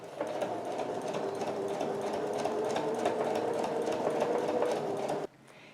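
A sewing machine stitches a toiletry bag with bias binding and a mitred corner, a rapid even whir running steadily and loudly before stopping abruptly near the end.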